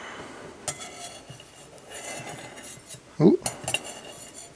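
A metal knife scrapes and clinks against a pan while metal-detecting finds are being preserved, with scattered light scrapes and taps, then a louder burst of clattering near the end and a brief vocal exclamation.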